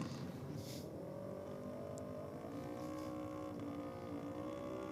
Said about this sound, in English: has some fun on the Kawasaki Ninja 300 over the quarter mile